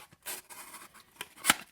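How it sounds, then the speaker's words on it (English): A knife with a flat grind slices through single-wall cardboard in a few short, quiet scraping cuts, the last one a sharper rasp. "it cuts the cardboard there pretty good"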